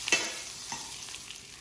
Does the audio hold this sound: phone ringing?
no